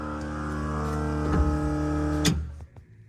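A small engine idles with a steady, even hum after its carburetor has been re-jetted and the fuel turned on, running close and alone before it cuts off near the end.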